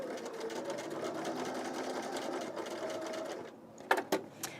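A sewing machine running a straight stitch on a strap, a steady close whir for several seconds before it stops, followed by a few sharp clicks and knocks.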